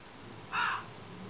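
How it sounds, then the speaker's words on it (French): A single crow caw in the game Tomb Raider 3, one short harsh call lasting about a quarter second, fairly loud against a quiet background. "Comment est-ce qu'elle peut se faire bousculer par un corbeau?"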